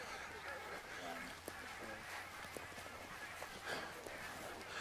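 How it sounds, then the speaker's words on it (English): A flock of geese honks while flying overhead at a disc golf tournament's final round. The calls are faint and distant, scattered under nearby voices and outdoor ambience. "We're witnessing a flock of geese fly over us"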